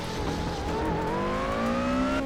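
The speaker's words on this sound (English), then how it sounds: "you could hear the little gravel hitting the inside of the wheel wells" A car at racing speed in Assetto Corsa, its steady engine drone rising slowly in pitch under a constant rushing noise, with gravel rattling inside the wheel wells.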